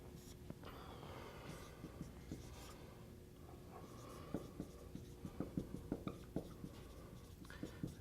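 Chalk or marker strokes on a board during a geometric topology lecture, a run of quiet scratchy taps and scrapes, close and steady, with faint room noise and no clear speech.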